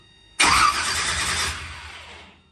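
An engine on Swampy, a vehicle that won't run, cranks over in one sustained burst of roughly two seconds, loud and close, fading at the end without catching.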